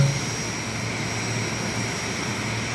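Airliner taxiing on the apron in a VR airport ground handling game, a constant close engine whine and hum that stays steady and alone throughout.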